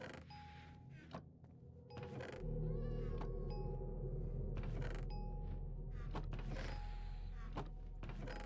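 A cat meows several times in a quiet room, short separate calls rising over a steady low hum and faint background clatter.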